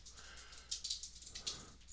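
A dog whimpers softly in a few short, breathy whines that come in a loose rhythm. The sound is faint and close, with no talk.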